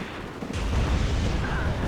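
Artillery fire in the WARNO real-time strategy game: a sudden loud low boom at about half a second, followed by a sustained rumbling roll of blasts that stays heavy to the end.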